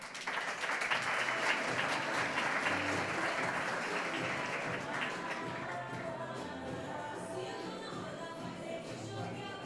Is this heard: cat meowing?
no